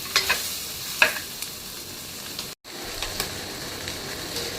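Cashews and masala sautéing in a pan, a steady close sizzle with a few scraping stirs near the start and a brief cut midway.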